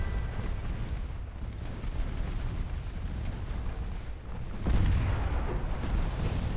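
Warship guns firing in a naval battle against light cruisers in Ultimate Admiral Dreadnoughts, a continuous rumbling barrage of booms with a heavier blast near the end, loud and unbroken throughout.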